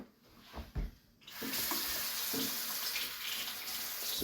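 A kitchen tap gushes water into a coffee machine reservoir, a steady close hiss that starts abruptly after a few quiet knocks and runs evenly to the end.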